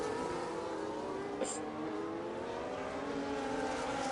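Race car engine in a racing video game accelerating hard on a restart out of the final corner at Monaco, a loud, sustained rising roar with a brief higher whine partway through, under commentary.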